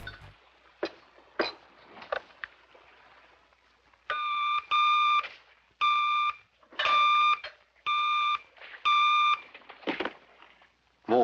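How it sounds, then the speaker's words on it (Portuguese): The red telephone from the 1960s Adam West Batman series rings in six loud, evenly spaced electronic bursts, each about half a second long, with quieter scattered sounds before them. "eles chamam o Batman pelo telefone, um telefone vermelho"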